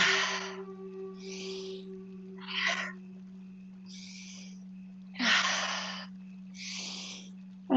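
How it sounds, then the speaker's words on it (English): Forced exhales during a yoga breathing exercise, about six sharp, breathy bursts in a steady rhythm, close and fairly loud over a constant low hum. "So let's force the exhale."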